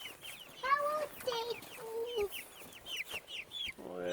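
Backyard flock of hens and a rooster clucking and calling in quick bursts, several birds close by with overlapping squawks and short crowing-like cries.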